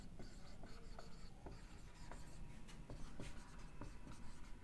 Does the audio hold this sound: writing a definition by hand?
yes